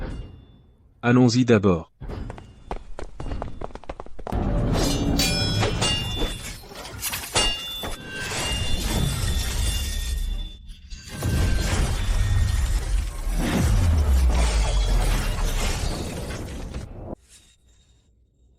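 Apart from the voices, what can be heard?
fight noises like a boxing match in a horror video game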